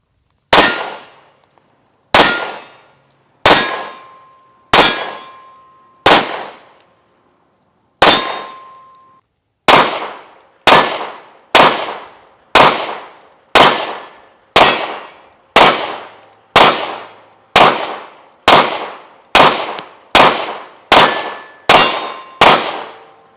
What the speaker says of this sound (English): now that we've had a chance to put a few rounds down range with this pistol